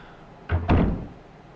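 A door opens in a Resident Evil game with a short double thunk and creak, loud and close, after quiet ambience.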